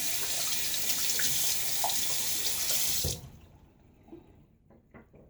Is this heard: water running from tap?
yes